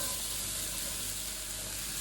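Granny Smith apples, ten to twelve of them, about 600 grams, sizzle steadily in a hot pan, a constant close frying hiss with no pauses and no voices.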